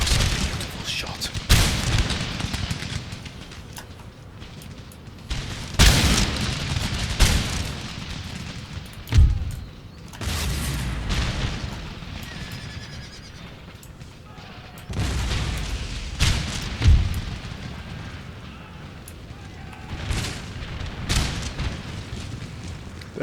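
Artillery fire in the battle game Empire: Total War, several heavy booming cannon shots spaced a few seconds apart, loud against a constant battlefield din, with someone talking throughout.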